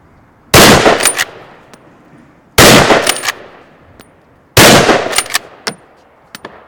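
Three loud, sharp shots from a straight-pull rifle, evenly spaced about two seconds apart, each followed by metallic clacks of the bolt being cycled to reload, with a brief ringing decay after every report.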